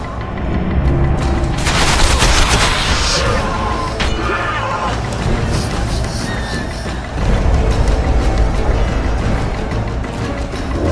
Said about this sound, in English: They're shooting!